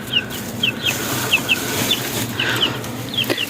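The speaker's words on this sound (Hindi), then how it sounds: "ये चूजे फिर हैं।" Small chicks inside a room give high, thin cheeps, repeated in quick pairs and single peeps at an irregular rhythm, fairly close over a faint background hum.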